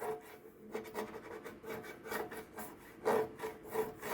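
Fingers or a hand rubbing across the slightly embossed surface of a fresh UV print from a Rainbow desktop UV printer, giving soft, close, uneven scraping strokes in bursts, with one louder rub near the end.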